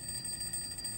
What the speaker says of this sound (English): Another alarm clock says ring from somewhere in the room.